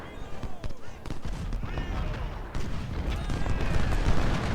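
Musket volleys and artillery fire in a Civil War battle at Bull Run in Ultimate General: Civil War crackle densely and continuously, with sharp overlapping reports and booming blasts building slightly louder toward the end.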